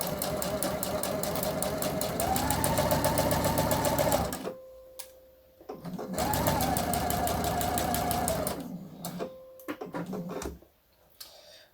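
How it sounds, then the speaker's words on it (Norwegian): A sewing machine runs steadily in two long bursts, stitching slowly along a blouse seam, with brief pauses and lighter clicks between runs; close and clear, no voices. "Og bare sy rolig og forsiktig, og trekk ut knappenål etter hvert"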